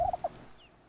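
A wild bird in the hunting game theHunter: Call of the Wild gives a brief turkey-like gobble of two or three quick notes, fairly faint, then falls quiet.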